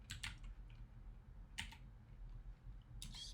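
Faint, quiet typing on a computer keyboard comes in a few short clusters of keystrokes separated by pauses, with a soft room hum underneath.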